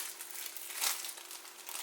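A thin plastic pouch protecting a new Evolio Axis 7 HD tablet crinkles as it is opened, with a soft steady rustle and one brief louder crackle, close and faint, no voices.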